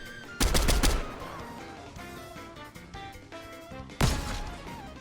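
Video game gunfire in two loud bursts of rapid automatic shots, one at the start and one near the end, with quieter game sounds in between.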